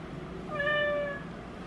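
Percy the house cat lets out a single short, clear meow, close and fairly quiet, with no talking over it.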